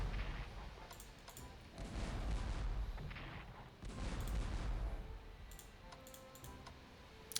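Artillery bombarding Pyongyang in the strategy game Strategic Command's Russo-Japanese War setting, a series of heavy booming blasts and rumbling bursts separated by lulls, mixed with scattered sharp clicks.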